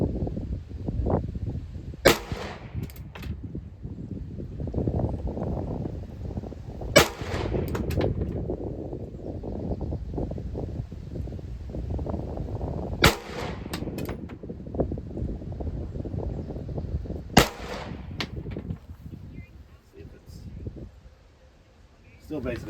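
Rifle fired at an outdoor shooting range, four sharp, loud single shots spaced roughly five seconds apart over a steady low background rumble.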